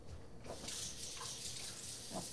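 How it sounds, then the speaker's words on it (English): Tap water runs steadily from a faucet while hands are washed, a continuous hiss and splash with small shifts as the hands move under the stream. "I'm going to wash my hand real quick."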